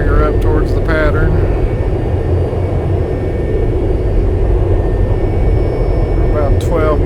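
Aircraft approaching runway 27 at Nassau: a constant loud cabin drone of engine noise under a talking voice, with short squeaks and chirps over it.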